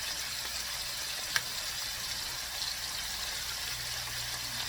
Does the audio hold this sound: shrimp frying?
yes